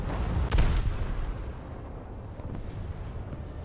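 A single heavy boom of naval gunfire from a warship video game bursts early and fades into a low rumbling background, with a fainter distant shot following.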